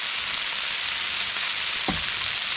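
Dense, even sizzle of mushrooms frying in oil in a pan, loud and continuous, with a brief knock of a utensil partway through and no talking.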